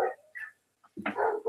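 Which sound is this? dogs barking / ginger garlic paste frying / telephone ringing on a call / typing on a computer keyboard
dogs barking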